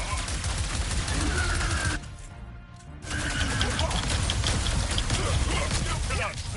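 Heavy guns in the Ratchet & Clank video game fire in a dense, continuous barrage of loud crackling blasts, pausing for about a second before resuming, with a character voice speaking over parts of it.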